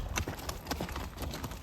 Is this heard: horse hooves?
yes